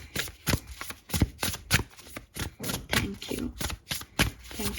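Tarot cards are shuffled close up, producing a rapid series of soft riffling flicks and taps in an uneven rhythm, fairly quiet.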